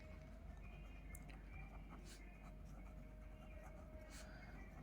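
A pen scratches on paper during a tenth-grade maths lesson, short faint strokes in uneven bursts over a steady low room hum.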